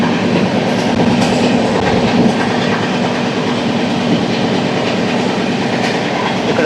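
Howrah–New Delhi Duronto Express 12273 running near Anand Vihar, heard from on board as a steady loud rumble with rhythmic clickety-clack of wheels over rail joints throughout.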